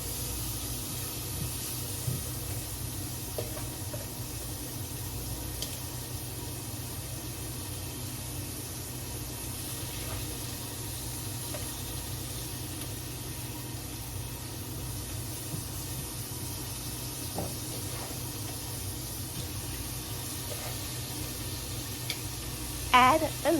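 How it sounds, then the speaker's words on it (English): Shrimp sizzles in a pan with sautéed onions, peppers and hot pepper, a steady hiss of frying running evenly throughout with a brief louder clatter at the very end. "Add your shrimp to your sauteed onions, peppers, and the hot pepper."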